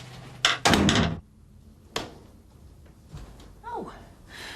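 A front door in a house shuts as a visitor leaves, a loud slam and rattle followed by a softer thud, then quiet room sounds and faint voices.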